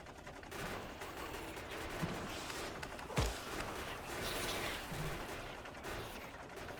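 Gun turrets in Factorio fire uranium bullets in a continuous rapid clatter, heard fairly faint and distant under a dense background of game noise, with no talking.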